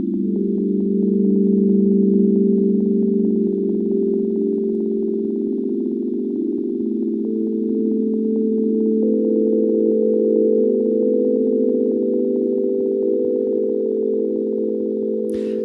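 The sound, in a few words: generative ambient synth in Ableton Live playing D note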